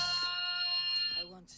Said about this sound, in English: that's my alarm, so I'll be back